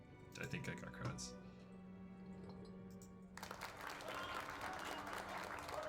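A crowd sound effect played for ambiance during a tabletop game session: after a few seconds of clattering and scattered noises, a dense wash of crowd applause and cheering swells in and holds, with people talking over it.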